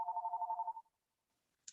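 A phone rings outdoors during a tree workshop: a faint, pulsing electronic trill lasting under a second, followed by silence and a tiny click.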